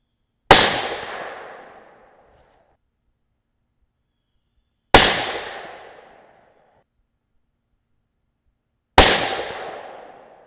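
Three loud shots from a T/C Compass 6.5 Creedmoor rifle, evenly spaced about four seconds apart, each a sharp crack trailing off into a short echoing decay, no talk.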